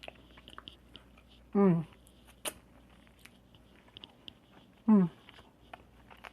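Someone biting into and chewing oven-baked baby back ribs with barbecue sauce, soft close chewing and smacking sounds between two appreciative hums.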